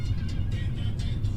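A car engine drones while driving late at night, a steady low rumble with faint road hiss that stays even and close, with no talking.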